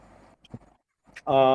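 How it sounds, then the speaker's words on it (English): A pet dog cries nearby, a short, tonal whine that rises at the end after a few faint scuffs and near silence. "my dog is crying over here"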